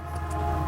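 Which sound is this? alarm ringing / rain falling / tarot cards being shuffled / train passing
train passing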